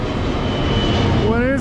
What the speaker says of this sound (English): it sounds like a big plane